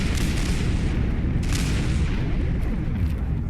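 Enemy gunner's grenade launcher firing in Fallout 4: a dense, continuous rumble of booms and blasts with no clear gaps, loud and close.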